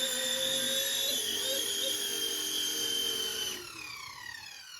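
An RC Airbus H145 helicopter sets down on a one-button automatic landing, its high, steady rotor and motor whine sounding close and continuous before dropping in pitch and loudness as it settles.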